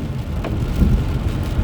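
Steady rain falls outside on a rainy Monday, a dense, continuous low wash of patter close by, with no voices.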